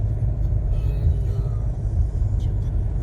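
Heavy road traffic on a busy highway out of Delhi makes a steady low rumble of passing vehicles, loud and continuous, heard from inside a moving car with a faint voice in the background.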